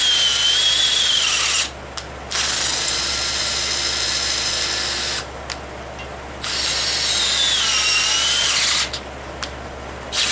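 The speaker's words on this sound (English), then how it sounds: "use a low power drill, none of your high torque drills" A small low-power 3/8 inch electric drill runs loud and close in three long bursts, whining steadily, with brief pauses between them and a faint steady hum underneath.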